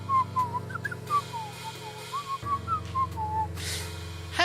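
A game character in Beacon Pines whistles a light, wandering tune while walking away, with clear melodic notes running for several seconds over a soft, steady background hum.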